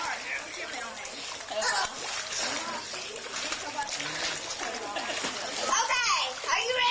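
Someone jumps into a backyard swimming pool at a 1991 Texas birthday pool party, the splash and sloshing water mixing with excited children shouting and talking throughout.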